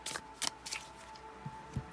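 Tarot cards being shuffled by hand, a few quick, close riffling bursts followed by softer taps and slides, with a faint steady hum in the background.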